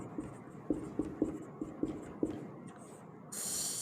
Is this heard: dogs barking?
no